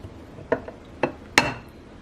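A metal baking pan lifted off a caramel bread pudding, heard as three sharp clanks and scrapes of pan against dish in close succession, each a brief metallic knock.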